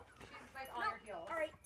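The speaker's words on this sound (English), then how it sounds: "seeing my bear dogs barking there" Bear dogs bark in two short, fairly faint bursts of yipping barks close together.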